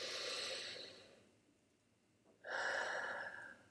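A deep breath taken in a calm stress-relief exercise: a long audible exhale fading into quiet, then a sharp, strong inhale, close to the listener, with no speech.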